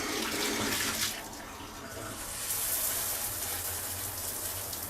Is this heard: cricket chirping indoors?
no